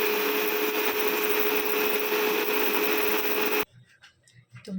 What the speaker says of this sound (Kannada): ತುಂಬ ಸಣ್ಣಗೆ ಇದನ್ನು ಗ್ರೈಂಡ್ ಮಾಡಬೇಕು.